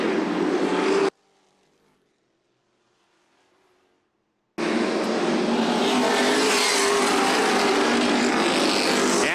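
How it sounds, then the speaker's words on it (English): Outlaw late model race cars roar around a dirt oval in the Intimidator 100 at Kalamazoo, a loud continuous engine wash that cuts out to near silence for a few seconds before returning at full, steady volume. "Brock Ganis is going to have to pick off a couple more lap cars as he goes around"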